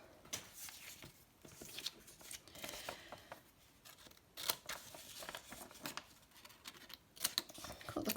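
Scissors snipping the corners off a folded book page, a string of soft, close, irregular paper cuts and rustles at low volume, with no talking.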